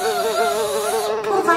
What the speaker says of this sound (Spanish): Allí había en un montón de popó unas deliciosas moscas bailando su son.